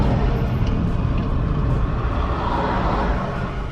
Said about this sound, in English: why we got all this traffic for what?